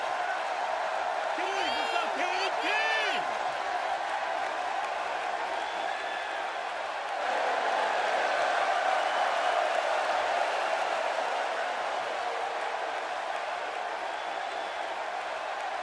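A capacity arena crowd roars in WWE 2K16 during a Stone Cold Steve Austin match, a constant wash of cheering and applause under a commentator's voice, with a few whoops rising early on.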